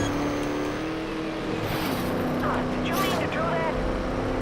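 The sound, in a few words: race car driving in the video game Trackmania Turbo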